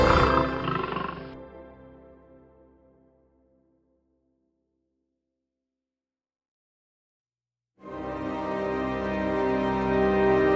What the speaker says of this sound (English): the deep roar of the predators